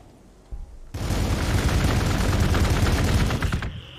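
Units in Warhammer 40k Gladius open fire in a loud, sustained burst of rapid gunfire lasting about three seconds, starting abruptly after a short thud and cutting off sharply, with no talking.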